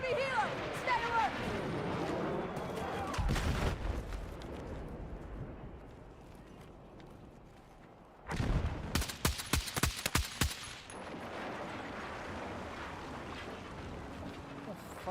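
Gunfire in the Battlefield 6 video game: loud bursts of automatic rifle fire crackle in rapid rhythmic volleys, with a sustained rumble of battle and a voice speaking over the action.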